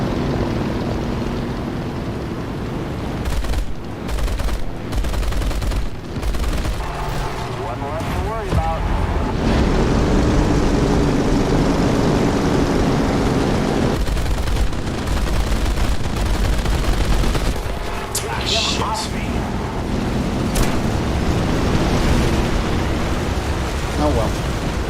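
Battleship guns in War Thunder boom and rattle repeatedly over a steady engine and wind roar, with bursts of firing spread through the stretch and someone talking over the din.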